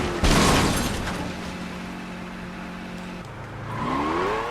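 A car crash in the video game Saints Row 2: a sudden loud impact bang, then a sustained engine drone that drops in pitch and rises again as the vehicle recovers, with no voices.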